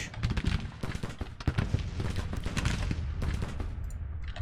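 Continuous long-range musket fire in a Grand Tactician: The Civil War battle, with sharp cracks layered over a steady rolling din of massed shooting.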